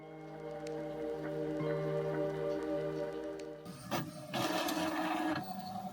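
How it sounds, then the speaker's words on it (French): A small home printer runs, first a steady mechanical hum with repeated tones and a faint ticking, then louder bursts of paper feeding and head movement, close up with no talking. "Imprime petite imprimante, c'est bien."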